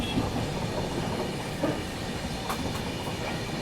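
A passenger train rolls along a curving track through hills, a steady loud rumble and hiss of wheels with faint clicking throughout, no voices.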